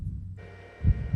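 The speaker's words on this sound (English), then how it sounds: "the reason I'm playing the heartbeat here is because this is where you can start hearing it in the module" A low heartbeat sound effect for the haunted castle of the Ravenloft module, soft deep thumps over a faint hum, with one stronger throb near the end.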